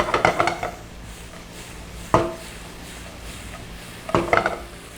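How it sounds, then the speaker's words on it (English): Tomatoes being stirred and sautéed in a pan, with three bursts of utensil clatter against the pan over a low steady sizzle, close and alone. "we break down the tomatoes to kind of release its moisture, and we just keep sauteing"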